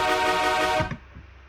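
A sustained electronic synth note on D sharp, low-passed and distorted, buzzing steadily for under a second before cutting off into a short, dim reverb tail.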